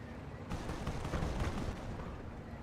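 Butterfly bomb explosions in the Company of Heroes strategy game, a dense cluster of rumbling blasts and crackling bursts that swell and then linger under steady battle noise.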